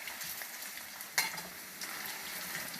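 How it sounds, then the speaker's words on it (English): Meatballs sizzle quietly in a pan over medium heat, a steady soft frying hiss, with a fork stirring and one sharp clink of metal against the pan partway through. "Okay, stir them with a fork. I don't want them to burn."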